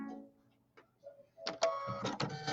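An embroidery machine sounds an alert after a threading attempt: faint mechanical clicks followed by a run of sharp electronic beeps, close and clear.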